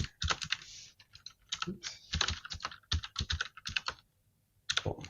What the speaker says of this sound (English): I can try that again, typing properly.